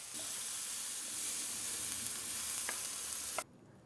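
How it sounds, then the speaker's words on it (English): Tomatoes frying together with other ingredients in a pan until they break down, giving a steady, loud sizzle that holds evenly before cutting off abruptly near the end, with a couple of faint clinks. "so all we've got to do is fry the whole lot together until the tomatoes disintegrate"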